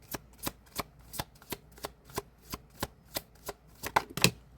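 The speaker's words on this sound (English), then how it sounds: "a lot of cards that just flipped out" Tarot cards being shuffled, a steady run of about a dozen crisp riffling bursts at an even pace, close and alone, ending in a louder flurry as several cards flip out.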